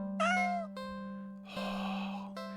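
A cat in a video game gives two clear, close meows, the first rising and bending, the second longer and breathier, over a steady low game hum.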